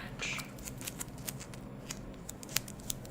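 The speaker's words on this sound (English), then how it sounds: "You definitely need scissors for electrical tape." Scissors snip through stretchy electrical tape, giving repeated crisp close-up cuts with an irregular rhythm and soft rustling between them.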